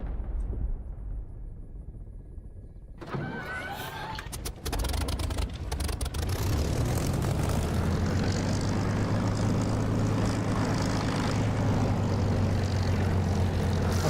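A Spitfire warbird's piston engine in the DCS flight simulator roars into life after a quiet start, building to a steady, loud, droning propeller hum that holds without letup.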